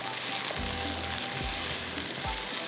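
Chicken with turmeric, salt, cumin, red chilli powder and ginger-garlic sizzles in a handi pot, a dense, constant hiss with a few dull scraping stirs, close and steady without talk.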